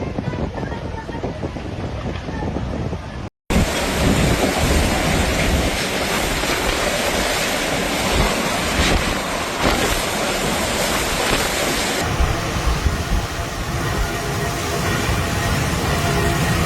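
Storm surf in Istria, Croatia pounds near the shore, a loud continuous roar of crashing waves and gusting wind buffeting the microphone, with a brief cut partway through.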